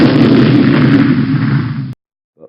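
A loud, dense explosion sound effect from a classroom PowerPoint game booms steadily for about two seconds, then cuts off abruptly into silence.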